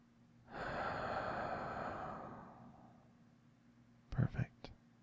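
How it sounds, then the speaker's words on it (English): During a guided relaxation, one long, deep breath is drawn in slowly and fades over a couple of seconds, followed by a few short, sharp breathy puffs close to the listener. "Deep breath in and hold it this time."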